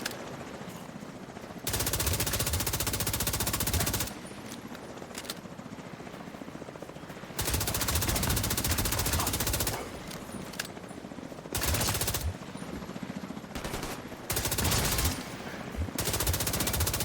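Machine gun fire in a shooter game, long loud sustained bursts alternating with short pauses, with a heavy rotor-like drone running underneath and no talking.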